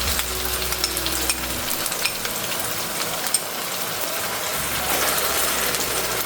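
Ginger, garlic, onion and red chili paste sizzle and crackle in a hot pan, a steady loud frying hiss with scattered scraping stir clicks throughout.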